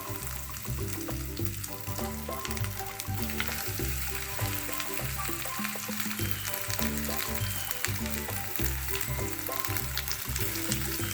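Rajma kebabs fry in shallow oil in a pan, giving a steady, close sizzle that runs unbroken throughout with no talking over it.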